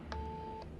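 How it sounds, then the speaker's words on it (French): A busy line heard on a telephone in an anime gives a short burst of two-tone beeps. Two brief tone pulses sound about half a second apart over a continuous steady tone, moderately quiet. "Sa ligne est occupée."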